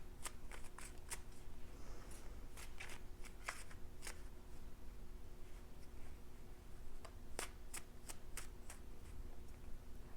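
Tarot cards are shuffled by hand in a quiet room, giving faint, steady papery riffling with scattered crisp card snaps and clicks.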